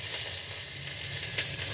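Chopped onion sizzles in hot coconut oil, a dense steady hiss of frying that carries on close and even, with a few slight stirring bumps and no speech.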